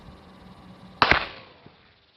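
A single sharp rifle shot fired by a Marine scout sniper, a sudden crack with a short fading tail standing out against a quiet background.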